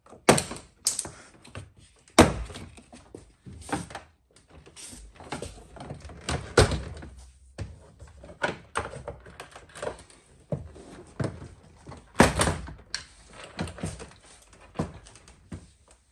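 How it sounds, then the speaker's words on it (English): Plastic clips popping and thunking as a large pry tool levers a BMW E92/E93 3 Series coupe door card away from the door, a series of sharp irregular snaps and knocks, close and alone. "Now you'll need to use a large pry tool under the back of the door card"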